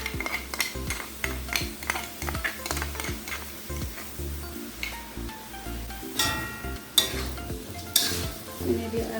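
Spicy chicken feet with chili powder, chili sauce and sweet soy sauce sizzle in a pan while a utensil stirs and scrapes in repeated strokes, with clinks of metal on the pan rising over the steady frying.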